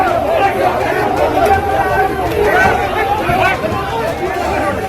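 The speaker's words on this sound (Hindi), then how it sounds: "बाहर भारी भीड़ जुट गई और लोगों ने उनके पक्ष में नारेबाजी शुरू कर दी" Dense crowd of political supporters gathered outside, a loud continuous babble of many voices shouting and chattering together at steady volume.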